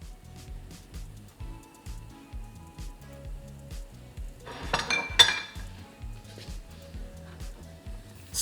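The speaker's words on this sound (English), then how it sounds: "Stir to make a paste." A spoon scrapes and clinks in a small pan as melted oil is stirred with turmeric powder and black pepper, a quiet, rhythmic stirring with a brief louder clatter partway through.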